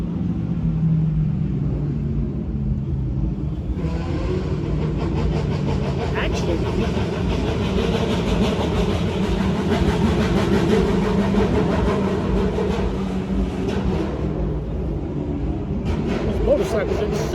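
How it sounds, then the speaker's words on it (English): Heavy street traffic rumbles throughout, car engines idling and revving nearby in a loud, continuous wash, with someone talking over it. "traffic is insane over here"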